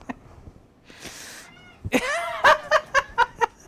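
A pet cat indoors in a craft room, first a soft rustle and breathy noise, then a drawn-out meow followed by a run of short, evenly spaced cries, loud and close.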